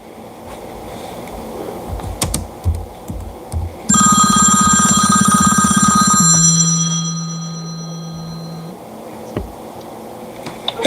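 A telephone rings for an incoming call, a loud electronic ringtone that starts abruptly and sounds for several seconds alongside a lower buzzing tone, then stops, leaving quiet background noise.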